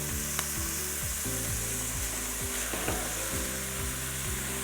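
Garlicky leafy greens wilting in a hot pan, a loud continuous sizzle and crackle of frying with repeated scraping stirring strokes, close up and without talk.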